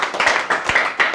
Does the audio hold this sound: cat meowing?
no